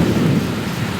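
A loud thunderstorm hits a duckling hatch setting, with steady heavy rain hissing down over a low rolling thunder rumble that fills the whole stretch.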